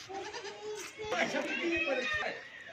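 A goat, a nanny kept with her two kids, bleats in several wavering cries close by, with people chattering in the background around them.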